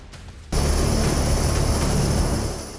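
A B-1 Lancer bomber flying over Latvia sets off a sudden loud, steady jet roar that holds strong for about two seconds and then begins to ease off.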